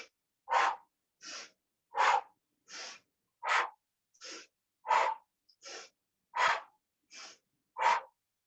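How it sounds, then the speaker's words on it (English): Deep, forceful breaths during yoga breathwork, eleven evenly spaced sharp huffs about every three-quarters of a second, close and clear with silence between them. "Inhale, inhale, keep going."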